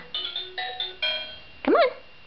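Leapfrog toy cell phone plays a string of bright electronic chime tones in quick bursts, then a warbling sweeping sound effect, loud and close in a quiet room.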